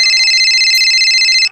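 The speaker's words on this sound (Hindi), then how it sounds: "तभी तपन बनर्जी का मोबाइल बज उठता है।" A mobile phone rings loudly and close up, a bright electronic tone pulsing in quick repeated beats for about a second and a half before cutting off, with no voices.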